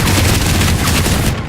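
Dense, loud gunfire fills a training mission in the video game Battlecry, continuous rattling shots pouring out with no pause, close and overwhelming.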